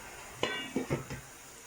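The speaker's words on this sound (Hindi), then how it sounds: "अब हम इसके ऊपर ढक्कन दे देंगे।" Lid set onto a pot of chicken leg piece biryani before steaming: a few soft, close metallic clinks and knocks within about a second, over quiet background.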